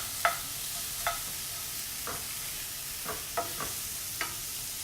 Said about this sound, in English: we're just gonna cook this until the shallots brown